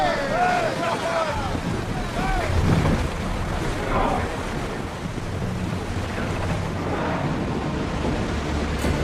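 A sailing ship ploughs across the sea in Assassin's Creed Odyssey, with constant rushing waves and wind noise filling the scene while voices talk over it.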